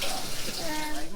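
Potatoes are rinsed under running tap water in a home kitchen, a short burst of splashing flow heard close, with a voice faintly mixed in.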